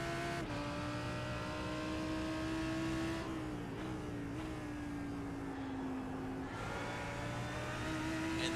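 Lamborghini race car in a racing video game at Mount Panorama, engine note climbing steadily as it accelerates out of a corner, a loud sustained whine that dips and then rises again through a gear change.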